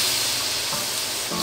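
Beef stock poured into a hot pan for beef salpicao, a loud steady sizzle and hiss filling the whole moment with slight surges in bubbling, no talking.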